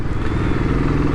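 A Royal Enfield Classic 500 single-cylinder engine pulls steadily under load on a test ride, its loud, close, rhythmic thumping beat continuous throughout.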